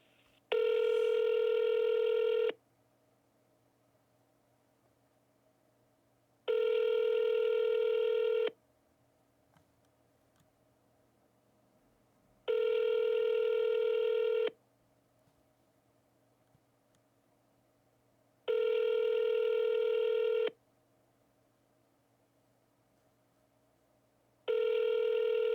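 An outgoing phone call rings back steadily, each two-second tone burst separated by about four seconds of silence, five rings in a row, clear and unaccompanied by any voices.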